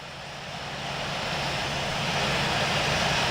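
A jet airliner's engines hold a steady, broad roar as it taxis toward runway 25 right at LAX in the flight simulator Infinite Flight, the noise swelling slightly and continuing with no voices.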